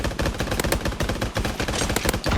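The kilo gun fires in the video game Mini Royale as rapid, loud, close bursts of automatic gunfire, with sharp repeated cracks in quick succession across the whole stretch and no talking.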